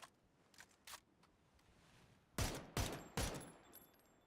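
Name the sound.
M249 machine gun fire from a video game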